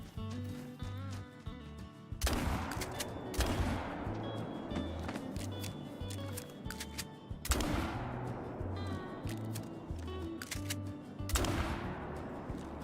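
Bursts of automatic gunfire in Call of Duty crack out in several loud volleys, each trailing into a decaying echo, over a low rhythmic game background hum with no talking.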